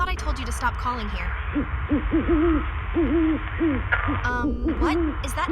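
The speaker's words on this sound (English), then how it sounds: "What? Is that an owl?" An owl hoots again and again in a steady, wavering series of calls over a dark ambient bed, with brief higher chirps near the end.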